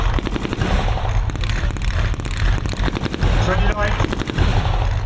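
Automatic weapons fire from Thompson submachine guns and a BAR at a WW2 re-enactment show, rapid bursts of loud, close shots crackling in quick succession, mixed with voices talking over the firing.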